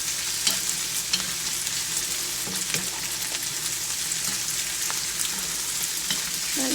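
Vegetables stir-fry in hot oil with a steady, close sizzle. Sharp clicks and scrapes come through now and then as the pan is tossed and stirred, and no one speaks.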